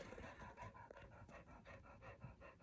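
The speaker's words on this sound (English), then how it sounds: "He's panting at me." A 16-year-old dog panting steadily at close range, quick rhythmic breaths repeating about four times a second, soft and low in level.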